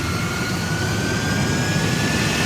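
A jet engine roars continuously, a dense steady rush of broadband noise with a thin high whine running through it, loud and unbroken.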